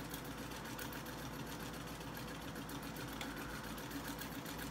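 Sewing machine running steadily while quilting a fabric table runner, a continuous close mechanical whir with rapid needle chatter and no pauses.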